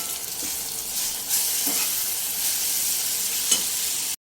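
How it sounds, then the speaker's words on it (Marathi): Sliced bitter gourd lands in a pan of frying onion and tomato, giving a steady close sizzle with a few soft stirring knocks, ending abruptly. "आता याच्यामध्ये मी पूर्ण सर्व कारले टाकून देते"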